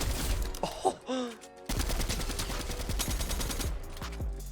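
Rapid gunfire in a Fortnite match, bursts of automatic shots rattling in quick succession for several seconds, with a brief vocal exclamation near the start.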